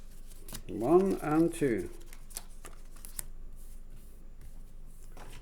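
Cut paper craft pieces being popped and pulled free, a run of crisp papery rustles and small snaps up close, with one person speaking briefly over it before it quiets.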